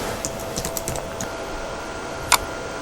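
Text is typed on a computer keyboard in a short run of light, irregular key clicks, a few quick taps followed by a pause and one sharper keystroke.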